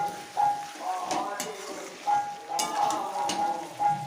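Chicken frying in oil that drips and spatters, a steady sizzle broken by small pops, with a person speaking over it throughout.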